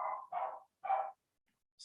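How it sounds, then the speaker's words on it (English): A dog close by barks three times in quick succession, short sharp woofs with brief gaps between them, then a faint higher yip at the very end, with no talk over it. "Damn dog"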